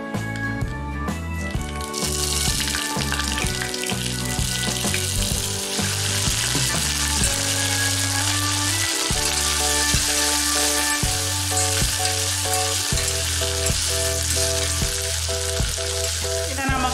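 Steady, loud sizzling of eggplant frying in hot oil throughout, with a layer of music playing over it.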